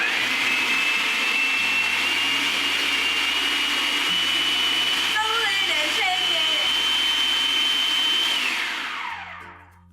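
A blender purees roasted onions with lemon juice, salt and olive oil, a loud steady high-pitched motor whine with brief churning changes midway, then winding down at the end.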